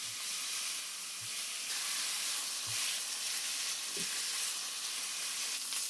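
Thin slices of meat fry in a hot oiled pan over medium heat, giving a steady close sizzle with faint stirring knocks now and then, no talk.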